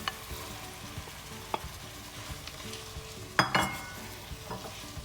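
Boiled, drained spaghetti and cherry tomatoes stirred in a hot frying pan, a steady soft sizzle with scattered utensil scrapes and a louder clatter partway through.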